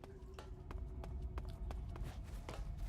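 Footsteps from the video game Metal Gear Solid: The Twin Snakes: a faint, steady series of soft individual steps tapping over a low background hum, with no talk.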